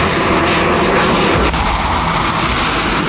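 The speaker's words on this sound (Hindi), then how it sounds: "आईडीएफ के फाइटर जेट की सोनिक बूम से लेबनान थर्रा रहा है।" An Israeli fighter jet passing over Lebanon during the war, a loud, steady engine roar filling the clip that shifts in tone partway through as the aircraft passes, with no voices.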